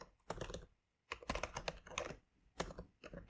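Close, crisp computer keyboard typing as JavaScript code is entered, coming in quick bursts of key clacks separated by short pauses.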